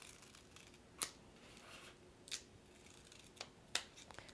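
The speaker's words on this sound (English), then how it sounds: "take your Tegaderm, fold it in half, and cut yourself a nice triangle right in the center" Scissors make four crisp, separate snips while cutting a folded Tegaderm transparent dressing for a Molnar disc dressing change, close by and quiet, with about a second between cuts and no talking.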